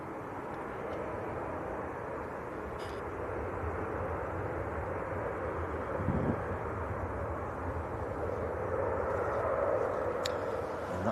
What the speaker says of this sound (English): That 738 of Jet 2 in from Grenoble.